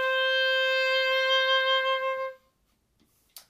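A single sustained oboe note C, clear and steady for about two seconds before fading into quiet, with a small click at the very end.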